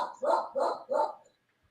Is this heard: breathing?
no